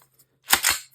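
A magazine goes into a Springfield pistol with two quick metallic clicks close together, sharp and near, with no talk.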